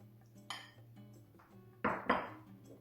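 A metal roasting pan of roasted pumpkins clanks and scrapes as it is handled, with a few sharp clinks and two louder bangs late on, close by and without speech.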